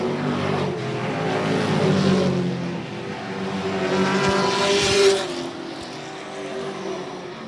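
Race cars lapping an oval racing track, a pack of engines droning and whining past at a steady mid distance, the sound swelling and fading as they go by.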